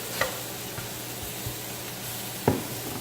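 Vegetables grilling on a grill pan, a steady close sizzle with a few soft clicks and knocks of a utensil, no voices.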